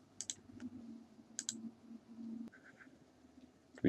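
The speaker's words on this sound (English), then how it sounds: "and click OK" Sharp, quiet computer mouse clicks, a pair near the start and another pair around the middle, then a few fainter clicks in a near-silent room while working in ArcGIS Desktop.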